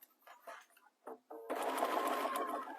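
A sewing machine stitches fabric for a neck warmer with a 1/4 inch seam allowance, starting after a few brief bumps and then running in a steady close whir.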